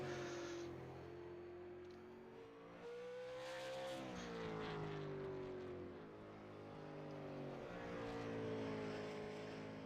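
A race car engine in a South Boston sim racing game drones steadily with a rising and falling pitch, revving and shifting at close range with no talk over it.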